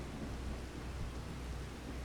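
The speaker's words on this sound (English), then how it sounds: "Storm is still in effect." Thunderstorm weather in the Farming Simulator game, set on the Forest Hills map: a steady, dense wash of rain noise with a low rumbling undertone, even and unbroken throughout, with no voices.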